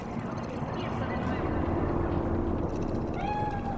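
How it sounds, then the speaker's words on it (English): A cat meows in the city streets of the Cyberpunk 2077 game, a few soft meows heard over a steady low hum of game ambience, with a voice speaking nearby. "Fine-looking feline"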